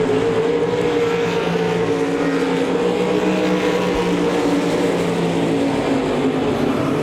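Race cars running side by side into a turn at Devil's Bowl Speedway, a loud, steady, close engine roar that holds for the whole stretch without letting up.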